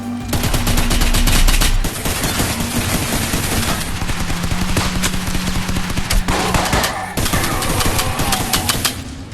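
Loud, sustained automatic gunfire from a weapon snatched off an enemy in the game The Burst, a dense rattling stream of shots with brief shifts in tone and a short break near the end.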